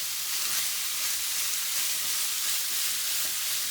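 Zucchini and pork mince brown together in oil in a frying pan, a steady close sizzle that holds evenly throughout with no talk.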